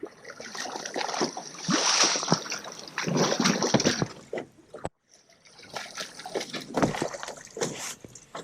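A diver with Blue Nemo portable diving equipment, breathing through a hose fed by a pump, goes under the water. Close, irregular splashing and gurgling bursts, a brief gap, then more bubbling and trickling.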